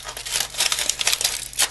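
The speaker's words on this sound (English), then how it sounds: "so you just want to crumple it and shape it on each side" Aluminum foil is crumpled by hand into a support shape, making close, continuous crinkling and crackling with rapid irregular bursts.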